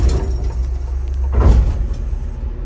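A Shuttlewagon railcar mover raises its rail gear, with a steady low engine rumble and a hydraulic whoosh and clunk swelling midway before settling back to idle.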